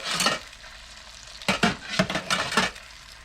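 A spoon scrapes and scoops turkey juices from a roasting pan in a few close, sharp bursts: one at the start, then a cluster of scraping strokes in the second half, with quiet pauses between.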